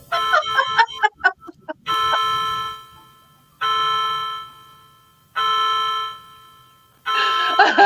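A clock chimes nine o'clock in a home, a quick run of light bell notes followed by slow, resonant strikes spaced about two seconds apart, each ringing out and fading before the next.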